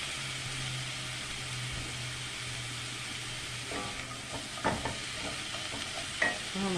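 Vegetables sauté in bacon grease and olive oil, a steady soft sizzle under a few scraping stirs and clicks of a utensil against the pan.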